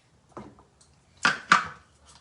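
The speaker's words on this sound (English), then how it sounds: "Popping the lid on." A plastic lid is set onto a Thermomix TM6 while making buttermilk scones: a soft knock, then two sharper clicks close together as it seats and locks, near and clear in a quiet kitchen.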